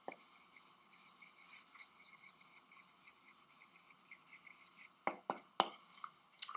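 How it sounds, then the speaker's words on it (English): A pen scratches across paper at close range while someone handwrites the word Reconstruction during note-taking, with quick continuous strokes and a few sharper taps near the end. "look how long it takes me, even if I write fast, to write that word"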